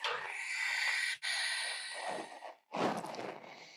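Two loud, breathy exhalations from a yoga instructor, the first long and airy, a brief pause, then a second forceful breath out, close to the ear with no speech.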